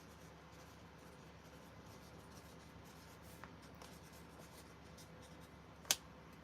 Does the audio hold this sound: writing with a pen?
yes